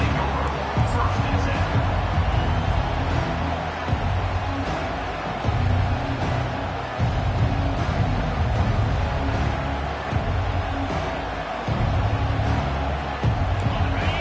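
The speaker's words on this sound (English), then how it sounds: "They challenge this crowd to bring the energy, and I'd say they're doing that." A packed college football stadium in a video game keeps up a steady, dense crowd roar, loud and unbroken throughout, with commentators talking over it.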